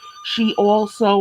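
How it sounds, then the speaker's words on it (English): A telephone rings with faint, steady high electronic tones beneath a woman's brief speech. "I'm sorry, that's the phone."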